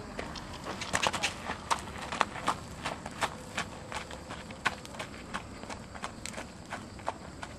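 A horse with a bad hitch in its right leg walks and trots downhill, hooves clip-clopping in an uneven, irregular rhythm at moderate distance, with faint outdoor background noise.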